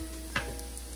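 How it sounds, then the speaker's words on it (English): Shrimp hitting a pan of softened, golden onions, giving a quiet sizzle with one sharp crackle burst and faint fizzing afterward, low and close with no one speaking. "Now we are going to add our shrimp."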